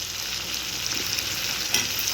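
Chopped tomatoes, about half a kilo of large chunks for a tomato onion chutney, hit a hot pan and fry with a steady close sizzle, with stirring scrapes and a brief louder splash near the end.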